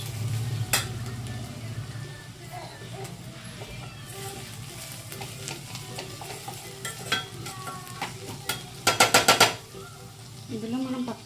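Chicken dropped into fried onions in a hot pan for a chicken munakkaya curry, setting off a continuous sizzle with scraping stirs, clanks of a spatula and a rapid burst of metallic knocks near the end.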